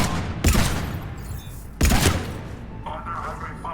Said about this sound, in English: Under heavy fire!